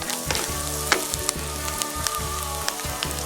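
Water goes into a pan of sautéed onions that sizzle loudly, with steady frying crackle, a few sharp pops and scraping stirs close by.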